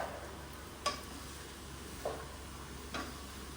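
Potato and carrot curry fries quietly in a pan on fairly high heat, a soft low hiss broken by three sharp spatula taps as the vegetables are stirred.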